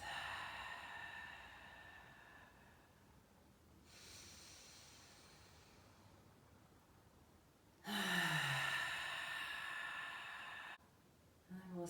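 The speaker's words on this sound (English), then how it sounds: "Taking a couple of deep breaths, inhaling through your nose," Slow, deep breathing during a yoga flow warm-up, several long drawn breaths in and out with quiet gaps between them, close to the microphone and loudest near the end, with no talk over it.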